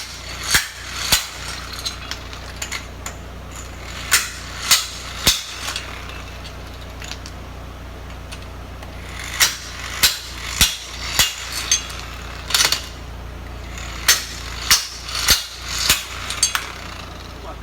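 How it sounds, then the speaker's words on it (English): A Kawasaki 12-volt 1/2-inch impact wrench spins up and hammers lug nuts in repeated loud rattling bursts, each a second or so long, separated by short pauses across the stretch. "it definitely is an impact wrench"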